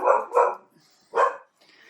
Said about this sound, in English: Luna's decided to bark at Caris moving upstairs